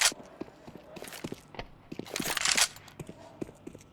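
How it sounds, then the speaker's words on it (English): Several footsteps in a Counter-Strike match on the map Vertigo, with irregular crunchy steps and sharp scuffs. They are fairly close and set over a light background of game noise. "Footsteps will be heard."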